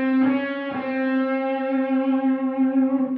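An electric guitar with effects sustains a C note bent up a quarter tone toward a blue note, plucked twice at the start and then ringing on, clear and solo.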